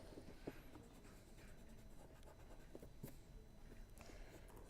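Chalk or marker on a lecture-hall board: faint, sparse scratchy strokes and taps spread over a few seconds against quiet room noise, with no talk.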